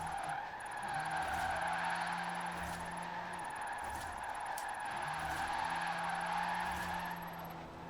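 Electric car in Forza Horizon 4 drifting sideways with all-wheel drive, steady loud tire squeal and skid running throughout alongside a low electric motor hum, with brief honk-like tones rising and falling.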